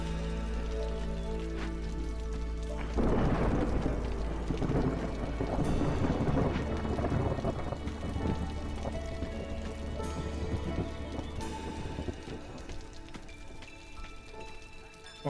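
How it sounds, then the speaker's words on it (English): Steady rain and rumbling thunder from a storm in the city-building game Against the Storm, with a loud thunder swell near the start, over a constant low roar and a layer of game music and tones. "I shouldn't have any reputation problems going through the storm here"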